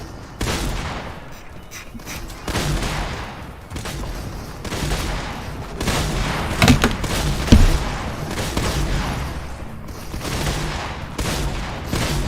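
Shotgun fire in a competitive Fortnite-style creative match, several sharp blasts scattered through a busy game mix with thuds and movement, one loud burst standing out near the middle.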